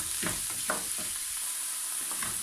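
Salted ground beef sizzles gently in a pan, a steady close crackle with a few soft stirring scrapes and no talking.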